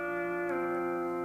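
Pedal steel guitar sustaining the final note of a C scale run, a smooth ringing tone that bends slightly partway through and holds steadily, quiet and alone.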